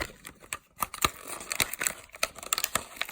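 Crinkly plastic packaging of Littlest Pet Shop Lucky Pets lamp toys is unwrapped up close, a busy series of sharp crackles, rustles and tearing snaps in irregular bursts, with no talking.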